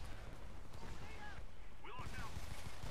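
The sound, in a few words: gunfire from the video game Homefront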